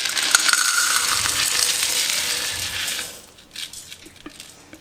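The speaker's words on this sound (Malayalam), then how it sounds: "ആ പ്രഷർ കുക്കറിലേക്ക് ആദ്യം തന്നെ കല്ലുപ്പ് വിതറി കൊടുക്കുകയാണ്" Coarse rock salt pours and scatters into the base of a 5-litre pressure cooker, a steady gritty hiss and rattle that fades after a few seconds into scattered light ticks and grains settling.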